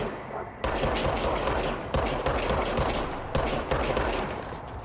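The service weapon firing in the video game Control, loud bursts of rapid gunfire in several volleys with short gaps between them, alone and close.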